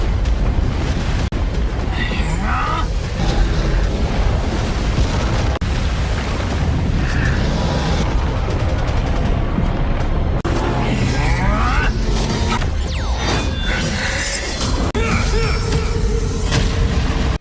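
Booming explosions from a combo attack by two Universe Masters in the animated film Swallowed Star roar loudly and continuously, with repeated blasts, bursts and rumbling debris layered over one another.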